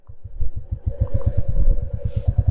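A Royal Enfield motorcycle engine thumps in a steady, fast, even rhythm. The bike is close and loud as it rides a mountain road in Spiti Valley, with a faint wind wash behind it.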